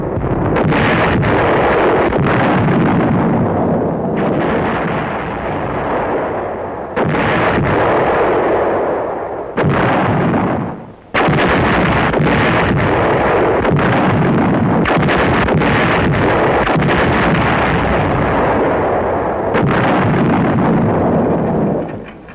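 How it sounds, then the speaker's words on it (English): Heavy WWII artillery at the Anzio beachhead, 1944: shells of varying sizes fired out from and into the battered beachhead, a relentless run of loud, booming blasts and rumbling reports with near-continuous roar and brief lulls, no talk. "there was the exchange of shells of varying sizes, weights, and types, fired out from and into the battered beachhead"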